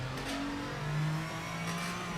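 Gillet Vertigo race car engine in the Project Motor Racing N-GT sim: a steady mid-pitched drone that swells and rises briefly in revs around the middle, continuous and fairly loud, with no voices.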